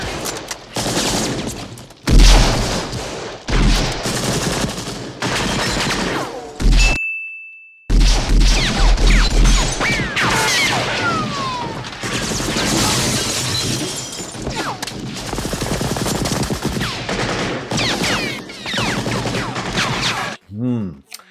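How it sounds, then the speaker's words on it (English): A sequence of sharp gunshots from Indiana Jones's Smith & Wesson revolver and a Browning Hi-Power in Raiders of the Lost Ark, loud cracks at intervals with ricochet whines and clanks, one brief silent gap, and a voice heard partway through. "shots 4, 5, 6, 7, and 8 are not from the revolver, but are from a sequence cut in with the high power"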